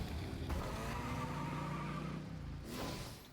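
Engines rev in a video game, a sustained roaring drone with shifting pitch that dips briefly and swells again near the end, loud and continuous without talk.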